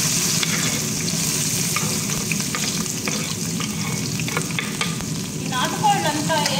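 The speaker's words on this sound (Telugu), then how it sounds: "ఇందులోకి తరిగిన ఎర్రగడ్డలు అండ్ పచ్చిమిరపకాయలు వేసేస్తాం." Chopped onions and green chillies fry in hot oil with a steady, dense sizzle and some stirring noises, close up and continuous.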